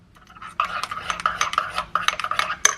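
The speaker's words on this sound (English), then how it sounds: "So I'm just gonna add like half of this into it, just to like mix that all together." Utensil mixing a melted butter mixture in a bowl, giving quick rhythmic scraping and clinking strokes close by, with no talk.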